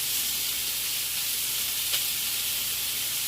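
Pork ribs browning in a pan give off a steady, even sizzle with a soft hiss, constant throughout and uninterrupted by any voice.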